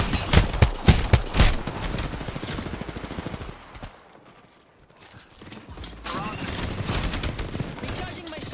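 Apex Legends gunfire, rapid bursts of shots and mechanical clatter loud at the start, fading to near quiet midway before more shooting and game noise return.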